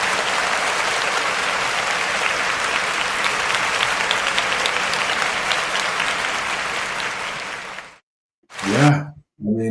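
An audience bursts into loud, steady applause that holds for about eight seconds, then cuts off abruptly, followed by a brief swelling crowd reaction and another short burst.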